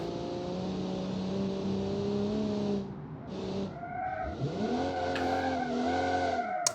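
A Kiev Motors 05 car spins out on ice in BeamNG, with an engine drone that drops off and then revs back up under a whining, squealing slide, loud and close.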